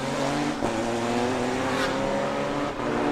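Mercedes and Honda race cars power out of a left-hand corner at the Bangsaen Grand Prix street circuit, engines roaring loud and steady, with layered revving close by and no voices.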